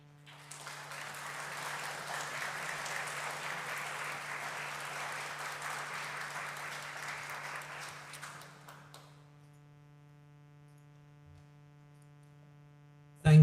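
Applause from a seated audience welcoming a speaker to the stage, a dense, steady wash of clapping for about eight seconds that then stops, leaving near silence.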